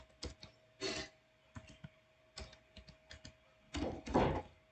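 A computer keyboard clicks while code is typed, in bursts of keystrokes with short pauses between them. Some strikes are close and crisp, and a heavier cluster of presses comes near the end. No voices are heard.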